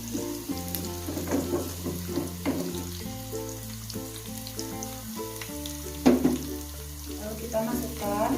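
Onions sizzle steadily as they fry in hot oil, with a soft crackle under background music and a few clinks of a utensil.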